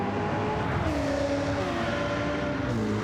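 Several GT cars, among them a Ferrari and a Ford Mustang, race at Atlanta in a sim racing championship, their engines droning loud and close, pitch falling as they shift and settle, with no voices over the roar.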